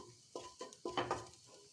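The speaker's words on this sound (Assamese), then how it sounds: "লৰাই থাকিম আৰু মছলাখিনি অলপ ভাজ খাবলৈ দিম" Whole spices such as black pepper, coriander and cumin are stirred and fried in a pressure cooker: a few scraping stir strokes over a soft sizzle, close and fairly quiet.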